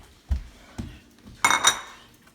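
Plates and a bowl knocked and set down in a home kitchen while making breakfast, giving a few close clinks and knocks, the last two brighter and ringing like ceramic.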